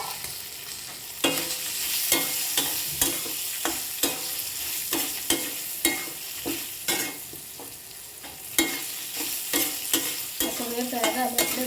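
Cut green chillies spluttering and sizzling in hot oil for a mango coconut pachadi, with steady frying hiss, sharp scattered pops and repeated spoon scrapes against the pan. Close and fairly loud, with no talk.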